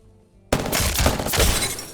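Gunfire from a legendary weapon in a video game starts abruptly after a quiet moment, then fires in a fast, loud, crackling burst that carries on to the end.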